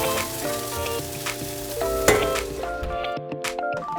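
Oiled, salted radishes sizzle and crackle on a hot sheet tray in the oven, a steady close frying hiss with a few metallic clinks and a sharp clatter midway, no voices.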